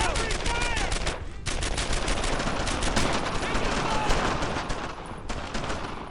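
Gunfire in the World War II shooter Brothers in Arms: Earned in Blood, dense rapid automatic bursts and overlapping shots rattling continuously with brief gaps, loud and close, with shouted voices mixed in.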